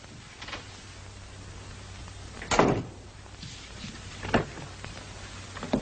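A door swings shut with a firm thud in a quiet room, a single solid impact standing out over low steady background hiss, with a couple of softer knocks or bumps around it.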